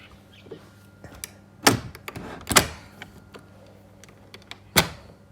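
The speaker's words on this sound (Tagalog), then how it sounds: "Sara na natin yung pinto" A door is shut in a countryside house, with several sharp knocks and clacks and one firm bang near the end, against a quiet background with faint small ticks.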